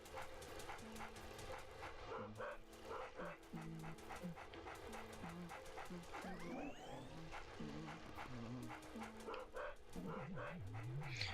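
A small yappy dog in the video game Luigi's Mansion pants, whimpers and yips repeatedly over steady game music and effects, its sounds close and fairly quiet.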